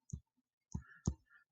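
Three crisp plastic button taps on a calculator keypad, close and quiet, with short pauses between presses.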